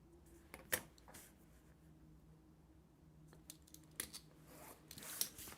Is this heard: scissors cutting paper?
yes